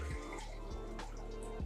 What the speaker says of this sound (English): if I turn this on and water flows